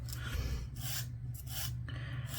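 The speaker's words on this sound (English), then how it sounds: "now whenever I trim my nails, I use a nail file and I go one way." A nail file rasping across a fingernail in one direction, a few slow, separate scraping strokes set apart by short pauses, close and fairly quiet.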